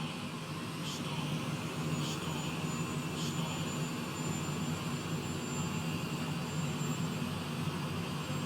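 An aircraft jet engine runs steadily after a restart, giving a continuous roaring drone with a thin high whine and a few faint ticks over it. No voices are heard.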